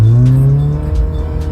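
A modified Mitsubishi Lancer Evolution, roughly 300 horsepower, revs hard, its engine note climbing loud and close, then dropping off into a rough, burbling idle.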